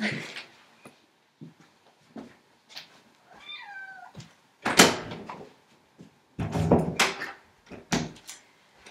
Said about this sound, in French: je vais t'ouvrir la porte